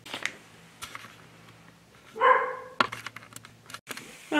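A dog named Bama barks at another dog walking past the house: a few scattered yelps and one longer bark midway, heard indoors against a quiet room with light tapping.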